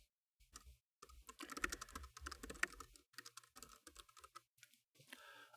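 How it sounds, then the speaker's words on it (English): Typing on a computer keyboard while entering Python code, with quick, irregular bursts of key clacks and short pauses, heard close and quiet with no voices. "I'm going to just type some code to show you some stuff."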